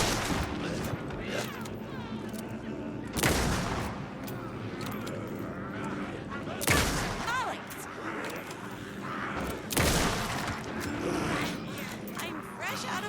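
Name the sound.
fully automatic gunfire in video game Alan Wake 2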